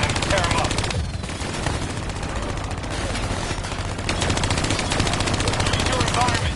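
Hijacked turret gunfire in Call of Duty 3, a loud continuous machine-gun rattle with dense rapid shots throughout, a voice speaking beneath the firing.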